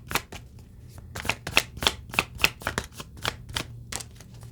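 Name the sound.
shuffling tarot cards to draw a card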